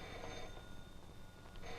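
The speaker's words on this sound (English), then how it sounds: "Gee, there's our phone" An old-fashioned telephone bell in a 1940s home rings steadily for a couple of seconds, a fairly faint, continuous metallic ring with no voices over it.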